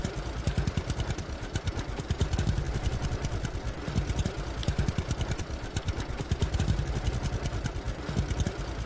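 A tractor engine in the farming video game Farmer's Dynasty runs steadily with a rapid, even chugging pulse throughout, close and continuous with no talk.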